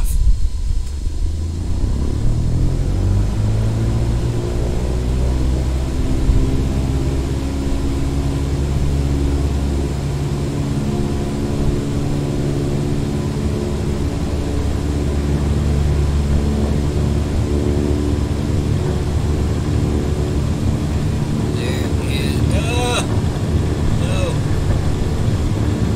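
An aircraft engine powering up for takeoff in Microsoft Flight Simulator 2020, a loud, sustained roar whose tone climbs steadily as it spools up and accelerates down the runway, with a voice briefly talking near the end.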